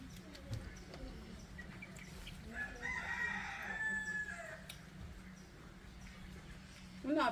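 Chickens cluck and a rooster crows faintly in the distance, part of an outdoor family gathering in Jamaica, with low background chatter and ambient noise around the birds.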